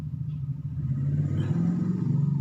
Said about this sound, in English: That's a really loud car.